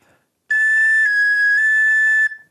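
A tin whistle sounds a G sharp in the upper octave using a cross fingering, one steady, bright held note lasting about two seconds, clear and alone with a slight shift partway through.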